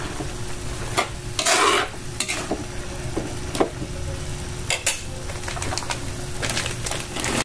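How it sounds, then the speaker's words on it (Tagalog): Chopped liver sizzles and is stirred in a pan, soft frying crackle running underneath with sharp scrapes and clatters of a utensil against the pan, plus a faint dove-like coo in the background. "Igisa mo na din yan ng ilang minutes kasi masamang ma-overcook ang atay."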